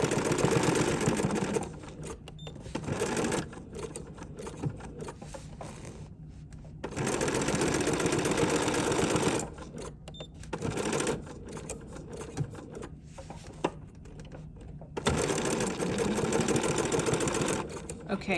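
An embroidery sewing machine stitches in loud, rapid, buzzing bursts that stop and restart several times, with short quiet pauses between runs.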